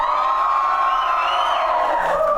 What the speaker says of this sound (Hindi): जरा चीख मारे।